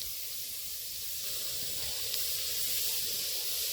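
Onions sizzle in a pot with no oil in a village kitchen, a soft continuous hiss and crackle that stays steady and fairly quiet throughout, with no voices.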